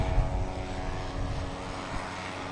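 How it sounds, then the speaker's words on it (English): A very loud propeller-driven Delta plane at Boston Logan Airport gives off a steady, heavy droning roar with a throbbing engine hum that fills the whole stretch without letup. "providing the sound of the very loud prop Delta plane"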